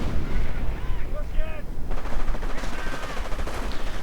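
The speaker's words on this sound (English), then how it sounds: "We see a heavy rocket barrage going in right down the rifleman." A heavy rocket barrage in a US-versus-Wehrmacht 1v1 strategy video game, heard as dense, continuous thudding and rattling explosions with overlapping bursts, loud throughout and mixed with faint in-game voices.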